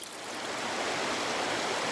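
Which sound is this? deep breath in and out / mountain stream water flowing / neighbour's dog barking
mountain stream water flowing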